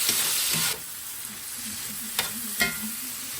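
Onions sizzling in a pan over low heat: a steady close frying hiss, briefly stronger at first, with a few light stirring scrapes and taps.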